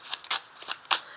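A deck of 32 playing cards being shuffled by hand, several quick papery riffling bursts close up in an irregular rhythm.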